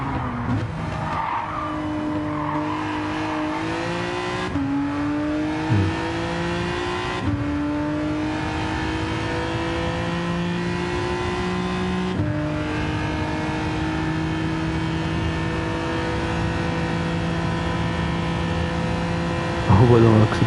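Engine note of a race car in Gran Turismo 7 climbs and drops through gear changes as it brakes, downshifts and accelerates out of a corner, with tire squeal, loud and continuous over the full stretch.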